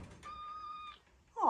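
A house cat meows once in a clear, steady, fairly quiet tone at a rabbit-keeping yard, with a thump or creak right after.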